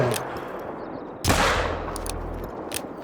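A single loud Rhino rifle shot fired at a bear in a hunting video game, a sharp close crack with a rolling tail, set against quiet outdoor ambience and a few faint clicks.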